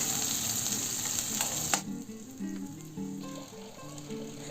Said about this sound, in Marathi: तेल गरम झालं आहे आता यामध्ये कांदा घालून घेऊ